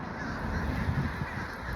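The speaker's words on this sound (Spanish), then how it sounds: "esos son cuervos" Somewhere overhead, a noisy flock of crows keeps cawing above a home, the calls soft and far off, blending into one continuous racket.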